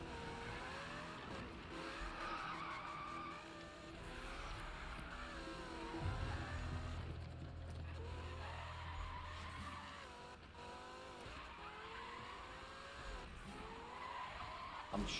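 Car tires skidding and squealing through a long drift in the Need for Speed 2015 video game, with a steady engine drone and wavering screech that rises and falls across the clip.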